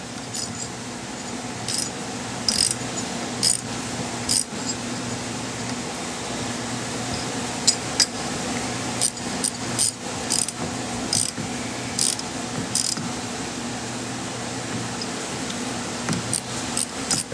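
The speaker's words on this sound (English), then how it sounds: "Go back in with our ratchet." A ratchet tightens bolts on the top end of a PW50 engine, with repeated short bursts of clicking separated by brief pauses and a steady background hum.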